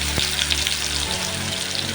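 Onion paste hitting hot oil tempered with bay leaf and whole cumin, a steady loud sizzle and crackle throughout while cooking a soybean and cauliflower curry.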